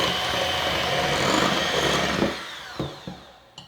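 Mixer whirring steadily as eggs are beaten for angel food cake batter with almond and vanilla extract, a loud continuous buzz for about two seconds before it stops, followed by a few faint knocks.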